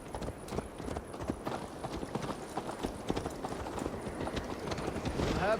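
A horse gallops with a rider in the Viking-era game Assassin's Creed Valhalla, its steady rapid clip-clop of hooves running close and continuous under low ambient game sound.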